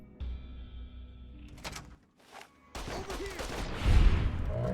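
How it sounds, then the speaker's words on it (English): Plasma pistol shots from Fallout: New Vegas, a few sharp energy-weapon bursts mixed with loud game effects and impacts, close and fairly dense over a background hum. "Let's rock with the plasma pistol for the time being."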